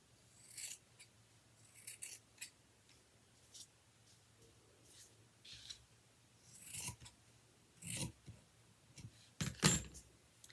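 Scissors cutting a baby sock in two while crafting coffee filter carnations: several separate crisp snips and rasping fabric cuts spaced out over the stretch, close and quiet, with no talking.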